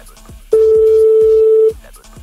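One sustained telephone ringback tone of about a second, heard during an outgoing call being placed, with faint clicks before and after it.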